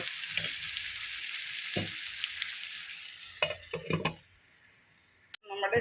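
Chicken pieces for a Kerala-style nadan chicken fry sizzle loudly and steadily in a pan, with a few stirring scrapes and clatters near the end before the hiss drops away.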